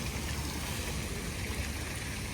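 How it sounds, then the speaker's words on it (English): Water spraying and splashing steadily at a kids splash pad beside a resort pool, a constant soft hiss heard alone. "This is the kids splash pad, which is really cute."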